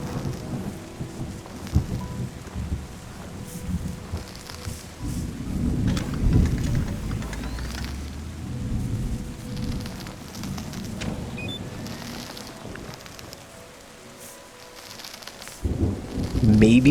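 Rain and a thunderstorm in the video game Terra Nil: steady, loud rainfall with deep rolling thunder rumbles that swell and fade, easing briefly near the end before surging again.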